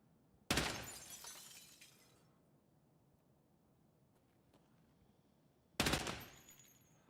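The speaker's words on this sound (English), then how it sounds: "Glad he stopped shooting." Two loud, sharp gunshots ring out in Escape from Tarkov, several seconds apart, each with a crackling, shattering attack and a long echoing decay into near silence.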